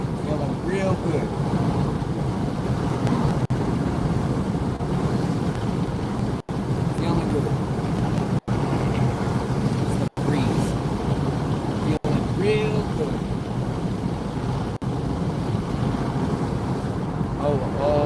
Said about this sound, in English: it's breezy